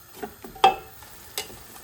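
Onions stirred in oil that is only slightly hot, cooking for chicken biryani, with a faint low sizzle broken by a few sharp scraping stirs of a spoon against the pot.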